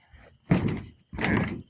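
Door at a rural AM transmitter site's tuning shack, two loud broadband thunks or rattling pushes, each about half a second, separated by a brief pause, close by with no talk.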